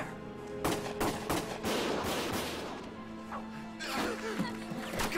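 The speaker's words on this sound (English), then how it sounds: "Gunfire! Everyone keep your heads down!" Gunfire rattles through a battle in the video game Valkyria Chronicles on PS4, with repeated sharp shots and crashes over a dense, noisy background of continuous combat.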